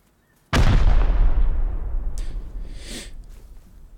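A bot's suicide explosion in the video game Rust, one sudden loud boom with a long rumbling decay, followed by a few fainter bursts as it fades.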